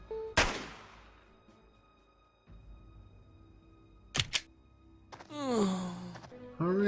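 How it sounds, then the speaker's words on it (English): Sharp gunshots ring out in the video game Jagged Alliance 2 during a defence at a street corner, a single loud crack followed later by a quick double burst and other clattering effects over quiet ambience. "Is having myself stationed around this corner, just blasting people as they come walking around there"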